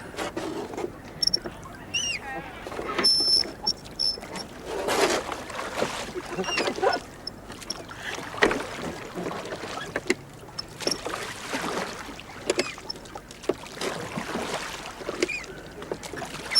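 Oars working a rowboat on the water, with irregular splashes, dips and creaks from the oars at close range, loud in some strokes and quieter in others.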